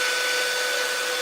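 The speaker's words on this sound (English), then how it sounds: "It's a really good blow dryer." T3 blow dryer running steadily, a loud continuous whooshing hiss of air with a thin motor whine, close and alone with no talking.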